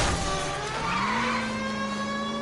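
A car in the video game L.A. Noire driving hard and skidding, with a steady engine drone and a rising tire squeal, loud and continuous throughout.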